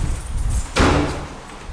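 A door is pulled open with a single sharp clunk and brief rattle, close by, standing out against a low, rumbling background.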